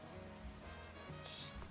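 In the video game Pokemon Legends Z-A, rain falls as a soft, steady hiss with faint ambient game tones underneath, quiet and even throughout.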